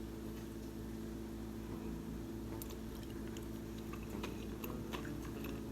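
Biting and chewing a buttermilk brownie during a taste test: faint, close soft chewing and squishy mouth sounds with a few small clicks over a steady low background hum, no talking.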